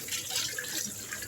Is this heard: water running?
yes